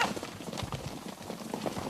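Campeiro horse hooves walking on the ground, a steady, moderately close clip-clop that runs right through.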